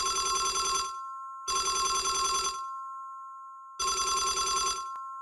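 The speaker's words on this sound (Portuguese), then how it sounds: "o telefone tocou alto em um sobrado de Tremembé" A telephone in a two-story house rings loudly at night, with three sharp bursts of electric bell trilling separated by short pauses.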